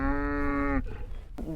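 Texas Longhorn cattle on an Ohio ranch, one long, steady, close moo lasting almost a second, followed by a short rough grunt or snort.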